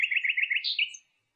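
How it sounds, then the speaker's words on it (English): A nightingale sings a rapid series of bright, trilled chirps that ends in a higher rising flourish, close and clear against silence, with no voices. "Nightingale."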